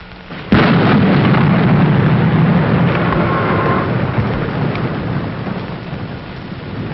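Heavy rain pours steadily in a thunderstorm, broken by a sharp, loud thunderclap that rolls and rumbles on under the continuous downpour.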